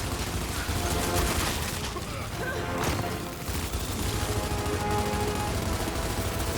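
Continuous rapid gunfire in the Gears 5 video game on Xbox One, dense and loud bursts blending with explosions and mechanical clatter throughout, with no break in the noise.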